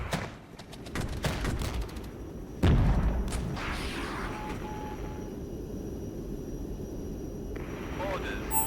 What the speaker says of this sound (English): And we'll immediately airstrike whatever's left.